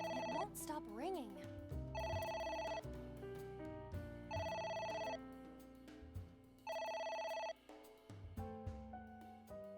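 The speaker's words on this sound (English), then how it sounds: "It won't stop ringing." Telephone ringing in the game AI: The Somnium Files, a repeated electronic ringtone in bursts of roughly a second with short gaps, four or five rings, over faint musical tones.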